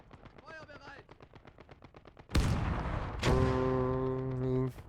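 Gunfire in the World War II video game Gates of Hell: Ostfront, with soft rapid clicks followed by two loud, close blasts whose rumbling echoes carry under a sustained engine-like drone.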